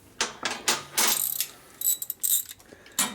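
A ratchet wrench clicks in sharp, close bursts of rapid pawl ticks during frame straightening on a 1942 Harley-Davidson WLA 45ci motorcycle. There are several separate strokes with short pauses between them, and no voices.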